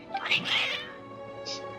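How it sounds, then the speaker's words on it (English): Several cats meowing in Genshin Impact, their agitated, overlapping cries loudest in the first second, followed by a quieter single mew near the end. "Your cats seem pretty worked up."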